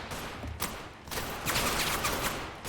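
Gunfire in the combat video game Total Conflict: Resistance, a sustained volley of shots with a few sharper bursts building toward the end, loud and close with no talk over it.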